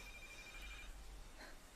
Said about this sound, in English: that was the sound of our actual phone that we had in our apartment ringing.